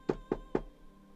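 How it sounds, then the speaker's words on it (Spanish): Three quick, evenly spaced knocks on a wooden door, close and fairly loud, with quiet room tone after. "le golpea la puerta temprano."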